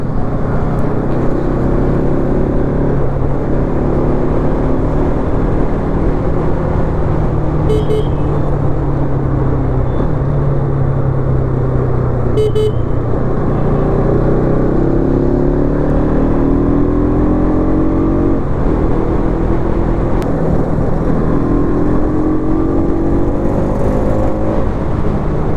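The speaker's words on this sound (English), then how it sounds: "it's 4 a.m. in the morning and there is traffic" Road traffic on a highway at 4 a.m., a continuous loud rumble of engines and tyres with vehicles passing and accelerating, heard from a moving vehicle with steady wind noise throughout.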